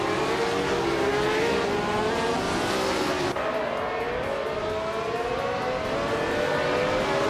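Race cars roaring in a racing video game, engines droning loudly and continuously as the pack speeds along, with a dense, unbroken high-pitched whine.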